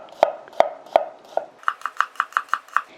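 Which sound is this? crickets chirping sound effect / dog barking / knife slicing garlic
knife slicing garlic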